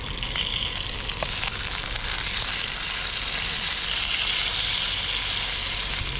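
Trout fillets sizzle and crackle steadily in a frying pan, a dense continuous hiss with faint occasional pops, close and fairly loud with no voices.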